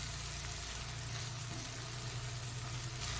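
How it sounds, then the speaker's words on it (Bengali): Ginger-garlic spice paste sautéing in a pan for a Bengali katla fish curry, a steady low sizzle and bubbling hiss that stays continuous and even throughout, with no voices. "এইবারে এই মশলাটা খুব ভালো করে আমি কষিয়ে নেব"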